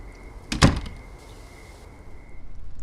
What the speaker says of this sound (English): The door was open.